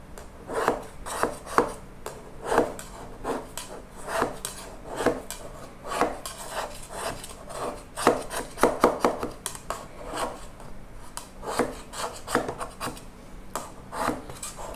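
A spatula scrapes around the side of a pan to free an Oreo chiffon cake, giving repeated short rasping strokes in an uneven rhythm, close and moderately loud, with no talking.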